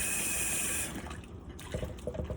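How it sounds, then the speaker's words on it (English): Water runs steadily from a faucet or is poured for about a second into a bowl of tortilla dough mixture, then gives way to softer splashing and mixing sounds, close and alone. "I add a little bit of water like this way, and I mix it up"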